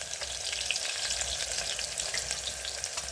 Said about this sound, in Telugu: ఫస్ట్ ఉల్లిగడ్డలు వేయాలి.